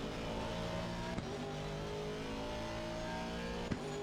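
Race car engine in a racing video game at the Brands Hatch circuit, holding a steady high drone that climbs slightly in pitch, with two brief sharp ticks like gear changes along the way, fairly quiet and with no voices.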